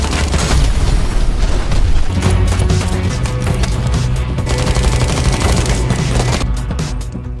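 A shootout's gunfire rattles loud and dense, rapid bursts and booming shots overlapping continuously with crashing impacts throughout.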